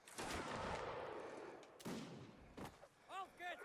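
Artillery firing canister shot in Mount & Blade Napoleonic Wars, heavy booming blasts at close range, two or three reports spaced out, followed by fainter shots and brief voices.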